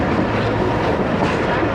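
The Awam Express passenger train runs on the track while picking up speed, giving a loud, steady rumble of wheels and carriages heard from inside the train.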